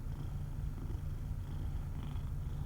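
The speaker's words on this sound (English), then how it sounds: "Big purrs." A cat purrs loudly and steadily up close, a continuous low rumbling throb with no pauses and no voices.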